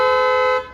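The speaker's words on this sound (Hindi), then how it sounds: "इसमें डुअल टोन हॉर्न का जो अपडेट है वो किया जा चुका है।" A Tata Punch Pure fitted with an upgraded dual-tone horn gives one short, loud, steady blast with a rich harmonic tone that cuts off cleanly after under a second.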